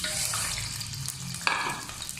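Sugar tipped into hot ghee with cardamom pods in a pan sizzles and crackles softly, with a brief stir or clink partway through, close and quiet.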